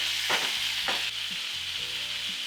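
Diced ribeye beef fries in beef fat in a single layer, a close, steady hiss with a few soft stirring scrapes and pops.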